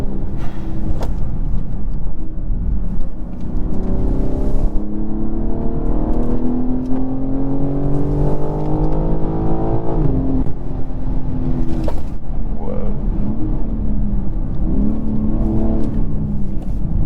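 A 2023 BMW M3 Competition xDrive engine pulls hard in second gear, its note rising steadily as it accelerates, loud and close from inside the cabin, with a brief shift-like dip partway through.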